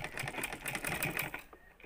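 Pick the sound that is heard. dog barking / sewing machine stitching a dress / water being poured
sewing machine stitching a dress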